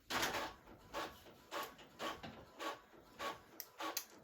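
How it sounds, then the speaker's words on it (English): A home printer runs with a steady series of swishing, rubbing passes, roughly two per second, moderately quiet and close, with no voices over it. "my printer's going off."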